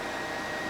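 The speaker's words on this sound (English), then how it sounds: "now I'm sitting under the dryer after I've applied my protein treatment" A hooded salon hair dryer runs with a steady, even whoosh of blowing air, close and constant with no breaks, while the person sits under it during a protein treatment.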